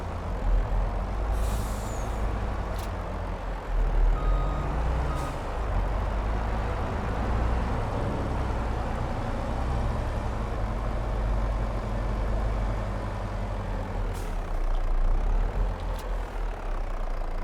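A heavy truck idles steadily in Farming Simulator 22, its low engine rumble continuous and close, with a few short air-brake hisses and faint beeps rising over it while it is parked.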